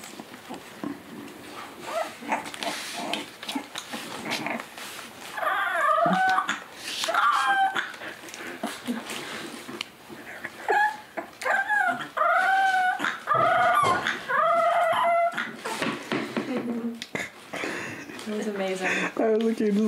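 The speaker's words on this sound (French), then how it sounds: "Un chien qui essaye d'aboyer." A young puppy tries to bark, letting out a string of squeaky yips, whimpers and thin high barks in short bursts, close up, with people murmuring and reacting in the background.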